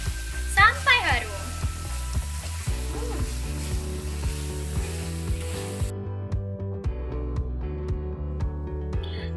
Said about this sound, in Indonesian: 1 lembar daun jeruk, dan juga serai. Kita aduk sampai merata ya.